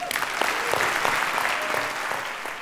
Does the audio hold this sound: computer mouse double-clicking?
no